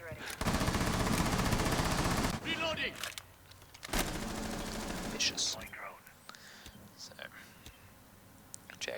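Rapid automatic gunfire in the Rainbow Six video game breaks open a door, with one long close burst and then a shorter one, followed by scattered clicks and debris as people talk quietly.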